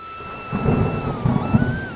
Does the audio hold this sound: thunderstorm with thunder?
yes